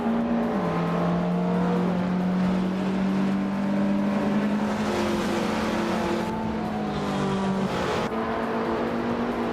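A field of street-class race cars, including a 1983 Toyota E86, roaring off the start at Fort Wayne Oval in a racing game, a dense steady engine drone with rising pitch as the pack accelerates, loud and continuous throughout.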